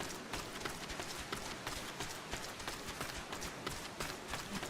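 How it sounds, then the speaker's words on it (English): Rapid, steady footsteps in a VR video game, close and continuous, with a quick running rhythm of soft thuds over a dense background wash. "Oh, footsteps behind me, footsteps behind me."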